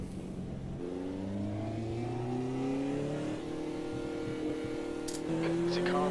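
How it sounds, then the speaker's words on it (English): A race car closes in during a racing video game, its engine tone rising steadily and building in volume as it gets closer, with a voice talking over it. "There's a car approaching"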